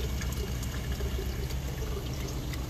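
Water drains back into a hydroponic reservoir tank holding a nutrient solution of water and organic fertilizers, a steady, continuous splashing trickle with no voices.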